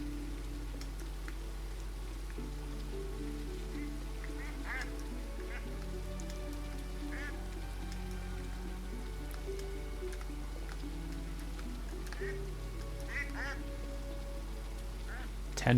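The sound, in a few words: ducks quacking in a fantasy shop simulator video game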